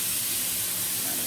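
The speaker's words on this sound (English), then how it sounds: "I'm just going to cook them until they get a nice color on them" Large seasoned shrimp sear in a hot pan with a steady, loud, dense sizzling hiss, close and continuous with no talk.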